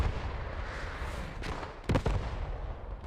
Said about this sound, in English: The artillery actually took out one of the rallies there